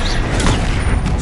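The Bombarda blasting spell goes off in Hogwarts Legacy on PS5, a loud, dense burst of roaring, crackling explosion noise that fills the moment with no one talking.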